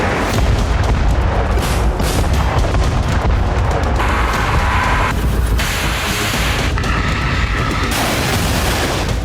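Explosions and artillery fire from the Russia-Ukraine war, a loud dense barrage of booms and blasts, repeated heavy thuds over a continuous roar, with no talking.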